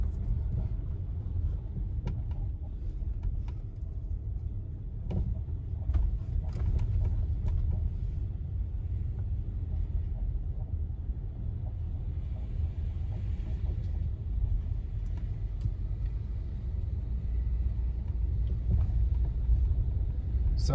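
A car driving along flat Old Sunset Trail at Santa Fe Summit, New Mexico, gives a steady low road rumble and engine drone that holds evenly throughout, with no talking.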